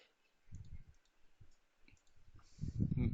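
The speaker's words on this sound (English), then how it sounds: "if I right click on that and just click on the meshing line" Computer mouse clicking during software work in Silvaco ATLAS TCAD, several soft close clicks in quick bursts with short pauses between them.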